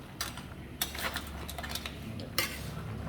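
Crab in Padang sauce boiling in a pot while being stirred, with close metallic scraping and clinking strokes over a steady bubbling bed, several sharp scrapes recurring irregularly.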